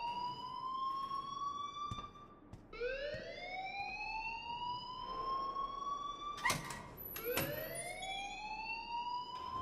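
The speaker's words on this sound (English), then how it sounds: "please turn off that alarm since that's your job." A school alarm at Blackwell Academy in the video game Life Is Strange rings as a faint, repeating electronic siren, each rising wail sliding upward then holding, with short clicks between cycles.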